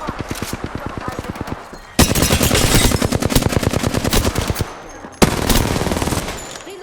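Rapid automatic gunfire from an Apex Legends match rattles out in dense, close bursts, with a brief pause near two seconds and another sharp burst around five seconds.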